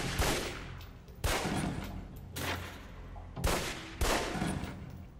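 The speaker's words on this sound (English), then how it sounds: "Equip equip the pistol, then aim down range and take some shots at the target." Pistol shots at a target range in the video game Alpha Protocol, five sharp cracks fired at irregular intervals about a second apart, each with a short ringing tail, fairly loud with no talk.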